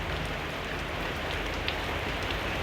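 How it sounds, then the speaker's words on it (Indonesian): Heavy rain pours down steadily on an overcast day, a dense, even hiss of drops striking surfaces close by, with no voices over it. "Dan ini dia, hujannya masih cukup deras ya teman-teman."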